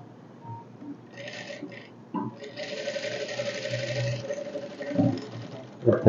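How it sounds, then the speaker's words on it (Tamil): Sewing machine runs in a steady mechanical whir while it stitches a narrow seam along the edge of blouse fabric, with a few short bursts and pauses. Quiet background speech can be heard under it. "ஃபஸ்ட்டு இதில் ஓரமாக தையல் அடிச்சுக்கோங்க"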